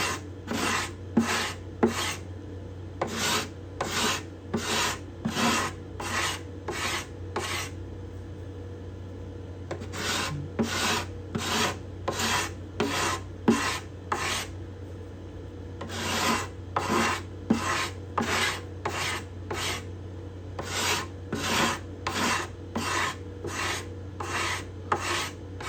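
A hand scraper works the bindings and purflings on the cedar top of a Desmond guitar: steady, rhythmic rasping strokes in close repeated bursts, with short pauses between runs and a constant low hum underneath.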